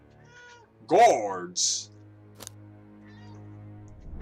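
A pet cat gives one loud, drawn-out meow close by, following a brief spoken word, with a faint continuous hum in the background.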